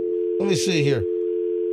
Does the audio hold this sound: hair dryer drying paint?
no